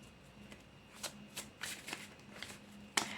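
Tarot cards are shuffled by hand in a series of soft riffling bursts at an uneven pace, quiet and close, ending with one sharper snap.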